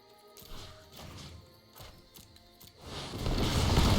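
A crashing, smashing impact effect from the Shatterskull Smashing spell in the digital card game Magic: The Gathering Arena, with a rising rumble building toward the end.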